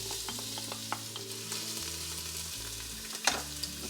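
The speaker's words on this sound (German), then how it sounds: "Die Zwiebeln und die Knoblauchzehen gebe ich dann in den Topf." Onions and garlic frying in olive oil in a pot for homemade ketchup, a steady close sizzle with occasional stirring scrapes and light clinks, no voices.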